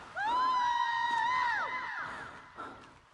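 A creature screams in the survival video game The Forest, a loud, shrill, wavering howl lasting over a second, then fading, followed by a brief fainter cry.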